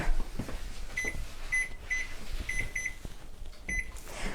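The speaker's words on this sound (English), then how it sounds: "let me set the timer" A kitchen timer being set for brownies gives a quick series of short, bright electronic beeps, faint over quiet kitchen room noise.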